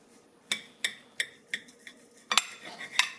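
A knife cutting a smoked skinless boneless chicken breast in half on a board makes a run of sharp, quiet clicks and taps, about eight in three seconds, close and otherwise near silent.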